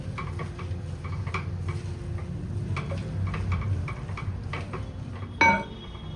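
Fenugreek leaves cooking in masala in a home kitchen pan, stirred with a spoon; soft repeated scraping and light clinks over a low sizzle, with a sharper metallic knock near the end.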